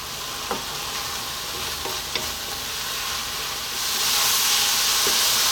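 Chili con carne with oregano, chili and cumin sizzles steadily in a pan, a broad frying hiss that swells louder near the end, broken by a few sharp scrapes of stirring.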